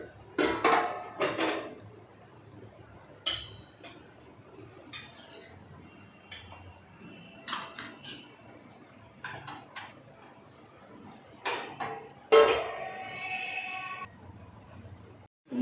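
Dishes, plates and cutlery clink and clatter in scattered bursts while a food offering plate is arranged for a temple deity, with quieter pauses between the louder knocks and no talking.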